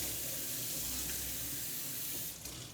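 Kitchen tap running steadily into a sink while something is rinsed, a close, continuous rushing stream of water that eases slightly at the end.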